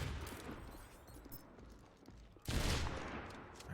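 Rifle shots traded at long range in an Overwatch Widowmaker 1v1 match, a few sharp reports early then a loud burst of gunfire near the end over a busy game backdrop.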